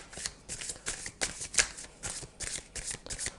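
Playing cards, likely tarot or oracle cards during a reading, shuffled steadily in quick rustling riffles and soft flutters, close and quiet, with no talking.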